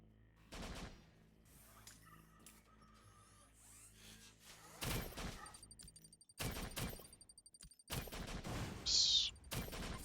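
Bursts of automatic gunfire from the shooter game Global Agenda, several rapid volleys with pauses between them over a steady in-game background hum.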